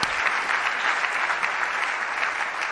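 A church congregation applauds loudly, a dense, sustained wall of clapping from many hands that fills the room evenly throughout.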